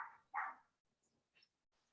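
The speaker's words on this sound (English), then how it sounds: "who's got the dog?" A dog barks twice in a participant's room during an online class, two loud close yelps followed by fainter yips and whimpers.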